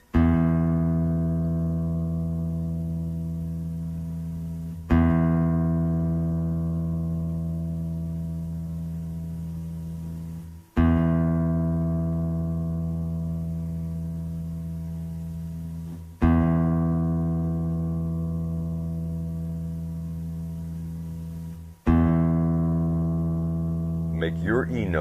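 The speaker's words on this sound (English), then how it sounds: "Make your E note on your guitar sound like that." A low E struck on the sixth string of a classical guitar, plucked five times in a row, each note ringing out steady and full before slowly decaying, with a final brief rattle at the end.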